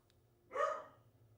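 A single dog bark rises briefly mid-moment in a quiet room, fairly close and moderately loud, over a low steady background hum.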